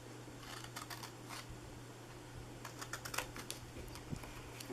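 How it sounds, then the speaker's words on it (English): Card stock being cut for a gift box, a series of quiet, close snipping and slicing clicks in uneven rhythm over a faint steady hum. "I'm cutting that off."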